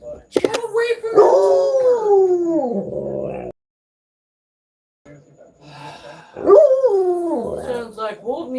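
A dog named Wolf lets out long, loud, wavering howls mixed with barks in two bouts, with a brief silent gap between them; no one talks over it.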